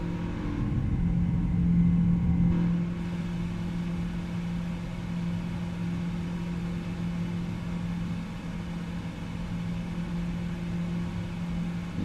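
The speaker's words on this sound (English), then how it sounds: "Rolls-Royce engines in action" Steady simulated cabin drone of the Rolls-Royce jet engines on a PMDG 777-200ER climbing in Microsoft Flight Simulator 2024, a low continuous rumble with a humming tone, slightly louder at first, then even, no talk.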